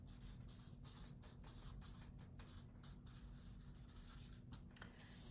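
A pen scratches across paper in quick, steady strokes with brief pauses, faint and close, over a constant low hum.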